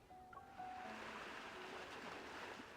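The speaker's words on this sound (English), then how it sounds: "Why do I hear waves in the background?" Faint, distant ocean surf washes in a continuous low roar behind a quiet scene, with a few thin tonal sounds drifting over it.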